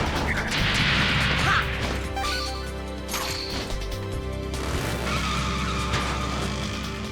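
A motorcycle ride in the PS2 game Musashi: Samurai Legend plays out as loud game audio, with skidding engine and tire sounds, crashing impacts and music layered densely throughout.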